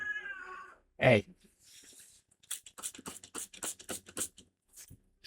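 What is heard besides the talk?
cat meowing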